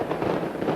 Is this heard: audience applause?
no